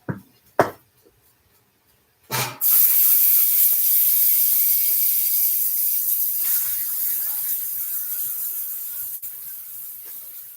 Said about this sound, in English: Now I'm about to put my steak on.